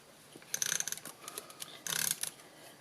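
A snail double-sided adhesive tape runner clicks and rasps in two short bursts as it is pressed along the back of a stitched piece, close and quiet with no talking.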